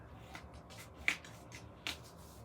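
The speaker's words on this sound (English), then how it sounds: "Peel and stick." Quiet crinkly rustling of adhesive backing paper being peeled from a paper folio piece, with two sharp snaps of the paper pulling free, close up.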